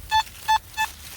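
Three short beeping tones from a Nokta Makro Simplex metal detector, evenly spaced and clear, each a bright pitched pulse with a faint hum between them.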